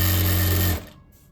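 Sewing machine running a line of stitches along the lining edge of a patch-embroidered blouse, a loud steady mechanical whirr that stops abruptly, leaving quiet room tone.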